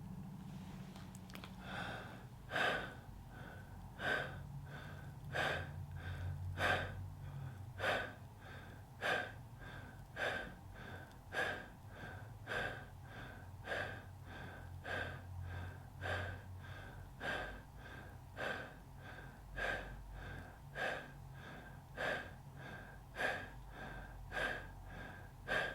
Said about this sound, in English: Let's take these 25 connected breaths together.